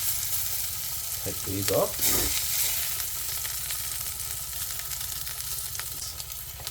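Sausages sizzle as they fry in a pan, a steady hiss with a few clinks and scrapes near the start while someone speaks briefly.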